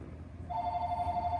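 A telephone starts ringing partway through, a steady electronic tone held at moderate volume over a quiet room background.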